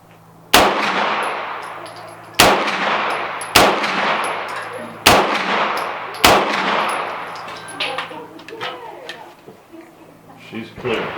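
Five loud, sharp gunshots ring out at an outdoor shooting range at roughly one-to-two-second intervals, each followed by a decaying metallic ring from a struck steel target, with quieter clanks and rustling afterward.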